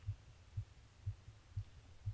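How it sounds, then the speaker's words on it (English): A heartbeat sound effect from the video game Everlasting Summer gives five soft, evenly spaced low thumps, about two per second, quiet and alone. "Dear God, I hear my own heartbeat!"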